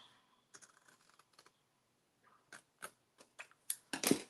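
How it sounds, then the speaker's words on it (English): Scissors snip paper up to a score line for a holiday mini album craft, as a string of quiet, sharp, close clicks in irregular bursts, with no talk. "snip this right up to that score line"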